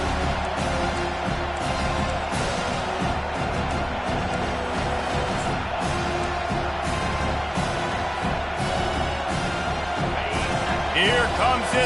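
Home crowd at a Tennessee Vols versus Penn State Nittany Lions college football game roars steadily on third down, a loud dense wall of stadium noise with a broadcaster talking over it throughout.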